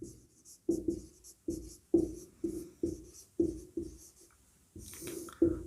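Chalk or marker strokes tap and scratch across a board during a Class 12 vector maths lesson, a quick uneven rhythm of short marks heard close and alone without talk.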